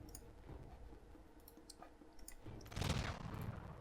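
Gunfire in the strategy video game Humankind: faint, quick clicking shots and a low rumbling burst, distant and soft under a steady game ambience.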